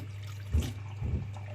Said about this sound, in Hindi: अच्छे तरीके से मल के इसको धोएं, अच्छे तरीके से ऐसे मसल के